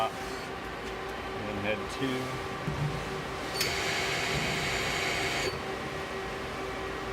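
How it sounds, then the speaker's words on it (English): Twin spindles of a 1994 Mazak Multiplex 420 CNC turning center lathe spin up and run with a steady mechanical whine and hum, a bright higher tone joining midway then dropping out, while someone talks nearby. "Go ahead and start the spindles up."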